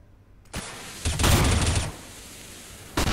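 Bursts of Sawn-Off shotgun and M4A1-S rifle fire in a Counter-Strike match on Cobblestone, a loud volley near the start and a dense sustained stretch of rapid shots, then another sharp burst at the end.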